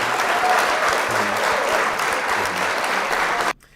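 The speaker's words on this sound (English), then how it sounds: "Can we get them applause?" An audience applauds steadily for a few seconds, dense clapping that cuts off abruptly near the end.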